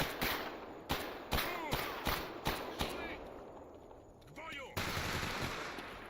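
Gunfire in the S.T.A.L.K.E.R. survival shooter: a rapid series of loud, close single shots at a steady rhythm, then a short pause with metallic handling noises, followed by a burst of continuous fire.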